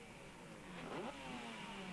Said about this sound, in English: Three-wheel racing cars, no less. 500 cc's, 4-cylinder, water-cooled, an immense amount of brake horsepower